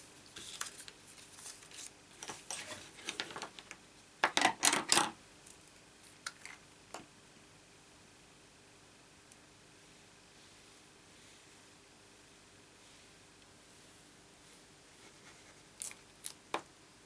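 Scissors snip through pieces of paper card for a treat box in a quiet room, several short crisp cuts clustered early, then a long pause and a couple more snips near the end.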